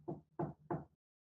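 Three firm, evenly spaced knocks on a closed door, close and clear, followed by silence.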